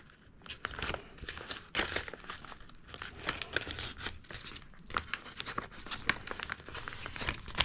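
Paper being folded in half while making the embellishments for a handmade junk journal booklet, giving a steady run of close, dry crinkling and rustling with sharper crackles throughout. No one speaks.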